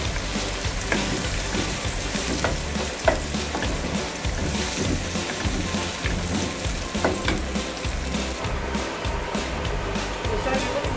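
Onions frying in oil in a pan with yogurt being added, a steady dense sizzle and crackle that continues evenly throughout at close range.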